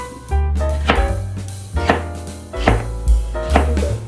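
Knife chopping food on a cutting board in a home kitchen: a series of about six firm, evenly spaced chops, close and clear, with short pauses between strokes and no talking.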